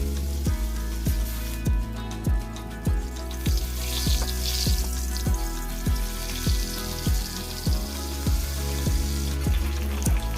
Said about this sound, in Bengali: মাছগুলোকে আস্তে আস্তে লাল করে ভেজে নেব।